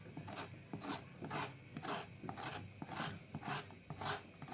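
A knife rasps repeatedly over the skin of a snake gourd, scraping it in about nine even, close strokes in a steady back-and-forth rhythm, with no one speaking.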